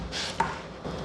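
A knife slicing the curved outer skin off a pineapple, giving a short crisp crunching cut with a sharp tick as the blade strikes the board, close and alone.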